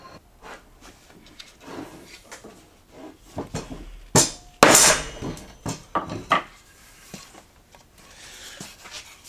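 A mallet taps a wooden mortise and tenon joint together on a workbench: irregular knocks and light clatter, building to a few loud, sharp strikes in the middle. No speech.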